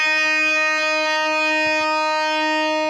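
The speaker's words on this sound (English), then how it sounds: "so if you want the E, it sounds like this." An electric guitar tuned down a half step sounds its low E string as one sustained, rich, harmonic-laden note that rings evenly and alone for about three seconds.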